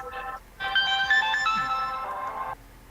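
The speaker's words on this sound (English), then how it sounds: "That's Ray's phone." A mobile phone ringtone plays nearby as a bright, tonal melodic ring lasting a couple of seconds, with a brief chirp before it and faint background voices.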